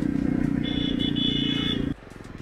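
A new 2024 Jawa 350 motorcycle rumbles under a rider, its engine holding a loud steady throb with a faint whine on top before the revs drop suddenly into a softer, lower idle.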